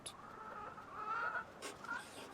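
Chickens clucking in the video game REKA, a few birds calling in short, uneven bursts at moderate volume with a couple of brighter, sharper squawks near the end.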